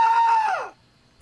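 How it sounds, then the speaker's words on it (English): A single shrill scream sound effect, high-pitched and sustained before sliding downward and cutting off, followed by near silence. "tell me how you do the sound effects, and do you have a scream?"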